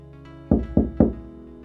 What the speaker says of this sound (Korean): 그리고 목수의 방문을 두드리고 말을 했죠